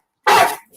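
A police dog gives a single loud, rough bark up close during a tense arrest, a short harsh burst that trails off quickly.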